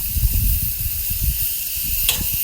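Skirt steak sears on a hot grill, giving off a steady, close sizzling hiss with a low rumbling undertone throughout and no voices.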